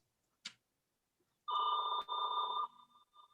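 A phone rings during a virtual council meeting: a short click, then an electronic ringtone in two bursts, fairly quiet against an otherwise silent room.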